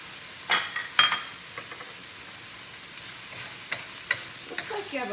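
Cilantro fries over high heat, a steady bright sizzle with sharp scraping and clacking stirs punctuating it, the loudest strokes near the start and toward the end, close up and without any talking.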